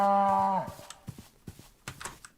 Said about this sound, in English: Was that just a cow? Because that sounded like some sort of tormented orc.